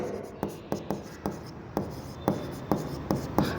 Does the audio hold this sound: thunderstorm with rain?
no